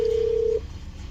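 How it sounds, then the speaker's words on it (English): A mobile phone gives a single steady electronic tone lasting about half a second, loud and close, then cuts off into quiet room noise. "Sorry, my phone's ringing."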